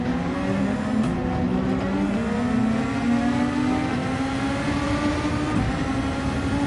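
Race car engine in Gran Turismo 7 revving hard with wheelspin on medium tyres, a steady loud whine holding and shifting in pitch through the whole stretch, no voices.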